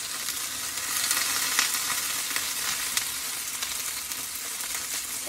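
Pork and green beans fry in a hot skillet, giving a steady, dense sizzle with small pops and crackles that holds at an even level from start to finish.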